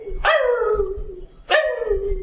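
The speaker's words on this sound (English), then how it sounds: "Sounds like a dog." A dog gives two separate barks, roughly a second and a half apart, played as a sound effect and sounding somewhat distant, with each bark dropping in pitch over a drawn-out tail and a low background rumble underneath.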